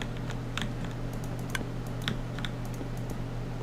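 A Minecraft redstone contraption built deep underground ticks and clicks in irregular sharp bursts, faint against a steady low hum.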